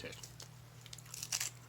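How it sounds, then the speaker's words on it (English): Close, crisp crunching and biting on Old Santa Fe original beef jerky, several quick crackling chews at an irregular pace over a low steady hum. "It ends up, I think, chewing fairly well in the end because of the crunch."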